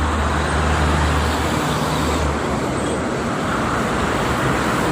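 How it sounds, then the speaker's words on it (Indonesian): Steady, dense roar of trucks, private cars and travel vans streaming along the Jakarta–Cikampek toll road, heavy continuous traffic noise with a low engine rumble underneath, no talking. "Untuk ke arah Jakarta di sebelah kiri didominasi oleh kendaraan truk-truk dan kendaraan pribadi maupun travel ya"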